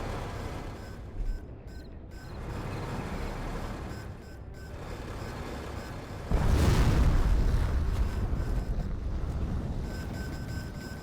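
A particle cannon fires in a strategy video game: a deep, heavy blast breaks out partway through and rumbles on loudly over a busy background of distant battle noise.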